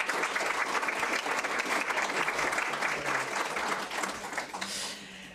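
An audience at a lecture on Napoleon, art and imperial court life claps warmly and steadily in dense, continuous applause that fades slightly at the end.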